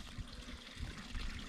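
Steady, soft trickle of a small cold stream flowing over rocks, a continuous low babble with no breaks and no voices.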